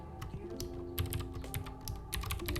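Fingers type on a computer keyboard in quick, uneven bursts of close, crisp clicks and taps, with brief pauses between runs of keystrokes.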